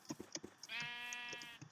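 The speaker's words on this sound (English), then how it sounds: "sheep." A sheep bleats once in the Minecraft game with the Magical World 2 modpack, a wavering, sustained bleat among soft clicking game sounds, fairly quiet.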